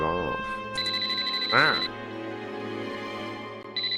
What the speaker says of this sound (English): His phone's ringing in his hand.